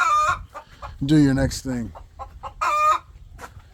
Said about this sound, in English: This goddamn chicken.